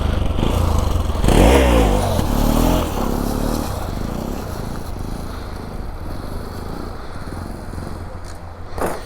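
Motorcycle engine revving and sputtering during bike wheelie practice, loud and close, with a surging throttle burst early on, then a steadier rumble under scraping and clatter.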